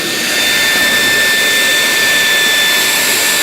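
A homemade electric fan running at full power roars with a steady, loud broadband whoosh and a faint high whine, holding constant throughout with no talk.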